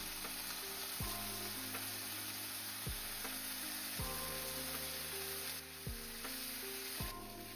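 Food sizzles steadily in a pan through a cooking session, a constant hiss with clear, regularly spaced thuds or stirring knocks about every second or so. Background music tones run underneath.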